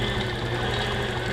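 Sewing machine quilting along a seam on a dinnerplate dahlia quilt, a close, steady, fast mechanical whir with rapid needle chatter throughout.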